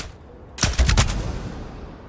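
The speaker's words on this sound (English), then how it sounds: "Let's see if this pistol can reach and do damage." Pistol fire in the video game Starfield, a quick burst of three or four sharp shots in close succession after a near-silent start, then a fading reverberant tail.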